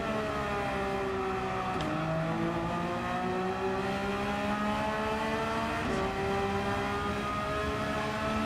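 A Porsche race car engine in a racing video game holds a steady whine that climbs through the gears, with two sharp shifts and continuous loud revving and no voices.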